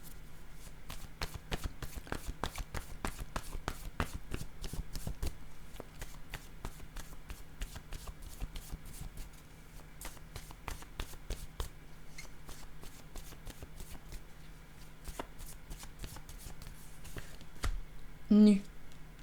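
Oracle cards shuffled by hand over a long stretch, a steady run of quick papery riffles and taps at close range, with a brief louder burst near the end.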